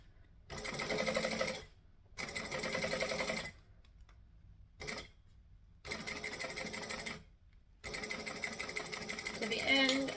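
A domestic sewing machine stitches travel bag handles in several loud, steady bursts, stopping and starting between runs for back-stitching, with brief quiet gaps where no stitching is heard.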